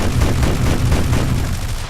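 Aircraft cannon fire from a Russian plane in the War Thunder video game pounds out as a loud, dense, continuous burst of rapid shots, with no talking.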